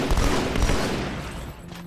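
Heavy shotgun blasts from the Halo 2 Anniversary video game, a dense burst of booming shots clustered near the start and fading into a decaying rumble, with no talking.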